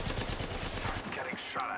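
Rapid automatic gunfire from a sci-fi shooter video game, a dense continuous burst of shots filling the whole moment at steady loudness, with no clear talk over it.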